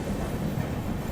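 Azimabad Express pulling out of Nagda Junction, a steady low rumble of the train rolling on the rails with a continuous, even roar and faint rhythmic clatter, no voices.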